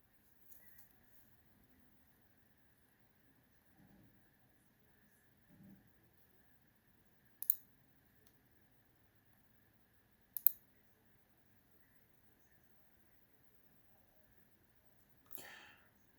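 A computer mouse clicks a handful of times, sharp, isolated and quiet, spaced seconds apart in a near-silent room.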